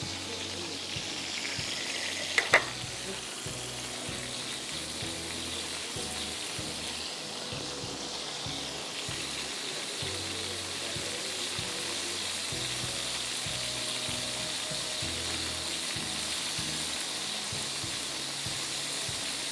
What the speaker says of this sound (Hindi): चिकन फिले ग्रिल करना है।